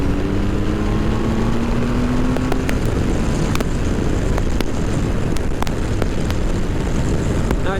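A Triumph Tiger 1200 XC motorcycle on the move, giving a steady, loud roar of engine and wind that continues unbroken throughout with no pauses.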